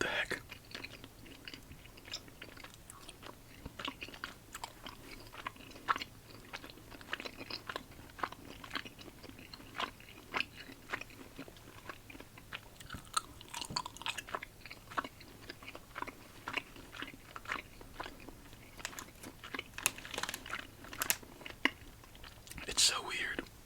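Close, quiet chewing and crunching of Christmas-themed hard and chewy candies, with wet mouth clicks and bites scattered steadily throughout, some brief soft whispering between bites.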